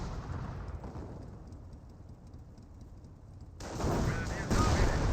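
A landmine is destroyed in the WWII strategy game Company of Heroes, giving a sudden low rumbling blast that rises out of quieter battlefield noise and rolls on loudly to the end.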